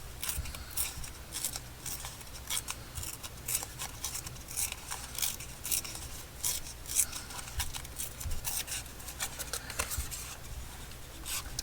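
A paper page gently torn by hand in a slow series of soft, crisp rips and rustles, close and quiet, with no talking.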